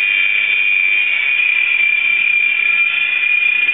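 The electric motor of an Air Hogs Sharpshooter Mil Mi-24 Hind RC helicopter, carrying added weight at almost full throttle, gives a steady, close, high-pitched whine that holds constant throughout.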